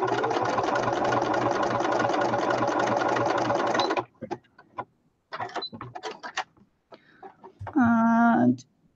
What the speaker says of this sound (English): I'm just going to zigzag stitch